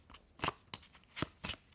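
A deck of oracle cards is shuffled for a card reading, giving four or five quick, soft papery riffles close up in a quiet room.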